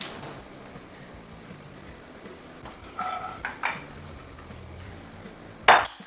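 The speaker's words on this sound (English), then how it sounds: "So I'm gonna take my 4 cobs of corn and put it into my cast iron pan to get some color." Four corn cobs set down into a cast iron pan, giving a few light clinks and knocks of metal followed by one sharper, louder clatter near the end, with no talking.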